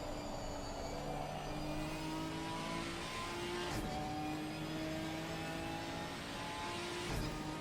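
Onboard race car at Brands Hatch setting off on a flying lap out of the pit lane, engine pitch climbing through gear changes with brief dips at each shift, steady and close, no voices.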